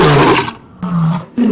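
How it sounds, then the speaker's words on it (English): A lion roars loudly at close range in three deep, rumbling bursts, the first long and the next two shorter, with brief lulls between them and no voices. "And a lion roars."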